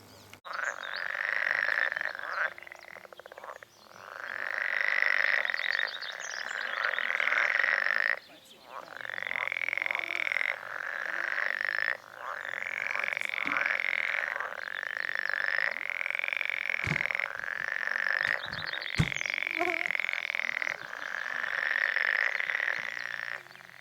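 Frogs, including a marsh frog, croak in long repeated rattling bursts outdoors at Kurgjärve in Haanjamaa in the morning, the calls rising and falling in a steady chorus with a few sharp knocks near the end.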